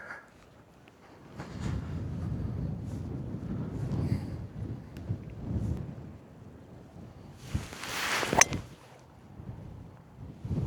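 Wind gusting across an open golf course, rising and falling in broad rumbling swells with a brief sharper burst of noise partway through.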